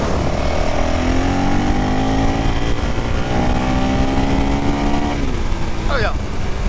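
A 2022 CRF 450 RL motorcycle on the move, its engine note climbing steadily through the gears under rushing wind, shifting near the end, with a short voice heard close by.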